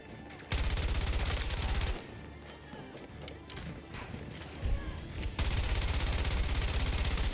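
Gunfire in Battlefield 2042, bursts of rapid automatic shots in loud clusters at the start and end with a busier, quieter stretch of battle noise between, close and intense, no one speaking.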